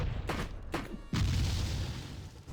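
Puppet enemies exploding in the video game Anima Gate of Memories, inside a mansion of puppets: a few booming bursts in quick succession, the last one leading into a sustained loud rumble.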